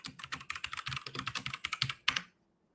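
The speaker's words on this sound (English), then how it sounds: "the joy of having a mechanical keyboard" Fast, steady clacking of keys on a mechanical keyboard, close and fairly quiet, with a brief pause and a final flurry of strokes before it stops. Nobody speaks.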